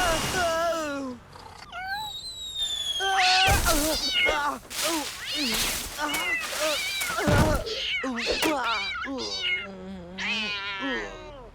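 A cartoon cat meows repeatedly in high, bending cries, loud and close, amid animated character voices, whooshes and thumps, with some calls stretched into wailing yowls.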